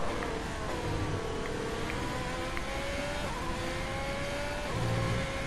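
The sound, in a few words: F1 race car engine revving in F1 2020 video game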